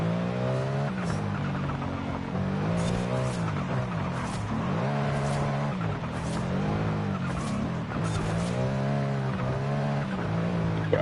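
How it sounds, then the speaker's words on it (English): A car drifts on a highway in the racing game Forza Horizon 5 on PS5, its engine revving in wavering pitch sweeps beneath repeated bursts of tire squeal, loud and continuous throughout. "What I love to do most is big drifts on the highway in this thing."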